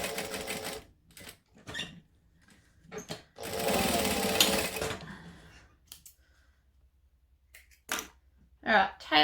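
A home sewing machine stitches in short bursts and one longer run, with a close mechanical whirr. Quiet gaps and talk fall between the runs.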